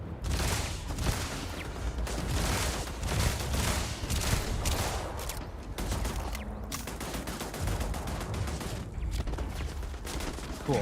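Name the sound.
gunfire from a first-person shooter video game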